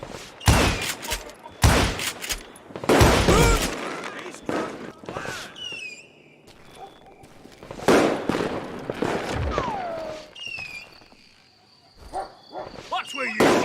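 Rapid bursts of video game gunfire, with sharp loud shots clustered in volleys and separated by quieter gaps, heard alongside voices in the game.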